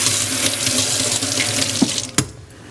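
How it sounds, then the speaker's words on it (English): Ceramics tools getting a final rinse under a running sink tap: a steady close rush of water, ending with a couple of clanks as the flow cuts off. "once they're rinsed off in the rinse bucket, I'll take them here for their final rinsing"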